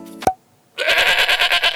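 A goat bleats once, loud and close, in a long wavering cry that starts after a short pause following a brief sharp noise.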